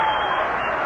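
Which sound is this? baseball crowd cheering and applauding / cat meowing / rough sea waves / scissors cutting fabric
baseball crowd cheering and applauding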